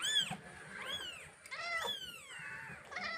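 A cat gives a run of four or five drawn-out, close meows, each bending up then down in pitch, separated by short pauses, with no voices present.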